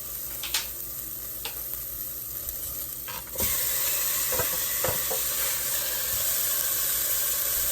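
Beef pieces hitting a hot oiled stew pot and breaking into a loud, steady sizzle, after a few quieter clinks and stirs, with the hiss continuing broadband and close for several seconds.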